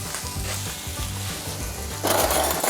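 Onions frying in a pan give a loud, steady sizzle with stirring scrapes, and the hiss swells sharply toward the end.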